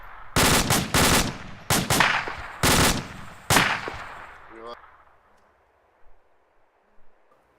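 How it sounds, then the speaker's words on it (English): Several bursts of machine gun fire ring out loud and close in uneven clusters, each a rapid string of sharp cracks, then the shooting stops and only faint noise and a couple of soft knocks remain. "Alright, Alpha, open fire. Alpha, fire."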